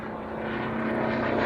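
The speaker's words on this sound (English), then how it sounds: "I just love the sound of the props" Propeller aircraft engines drone steadily and loudly at an airfield, a sustained rumbling hum that builds slightly in strength, with no speech.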